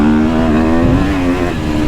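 A KTM 250 four-stroke motocross bike, the 2022.5 Factory Edition, revs hard on a GP track with a loud, steady high-pitched engine whine held throughout, close and continuous.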